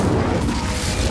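An Incendio fire spell in Hogwarts Legacy bursts out as a short, loud, rumbling whoosh of flame, dense and close throughout its brief second.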